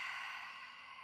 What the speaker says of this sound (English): Deepening breath in